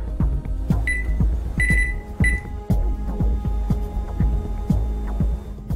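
An oven timer beeps in a repeated series of short electronic tones over a low steady hum and clunking rhythmic mechanical noise, loud and close.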